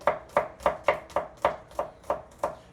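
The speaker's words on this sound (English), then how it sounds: "So I'm going to chop this stuff up." A knife chops salad ingredients on a cutting board in nine evenly spaced, crisp thuds, close and clear, with no voices.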